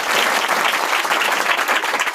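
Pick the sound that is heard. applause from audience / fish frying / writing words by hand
applause from audience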